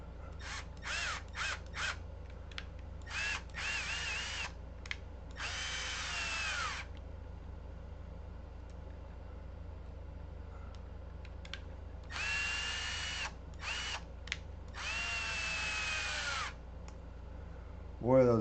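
A cordless power drill driving hot screws into an RC carpet truck chassis, cutting threads in short whirring bursts, several brief pulses then longer runs, close and fairly loud over a low room hum.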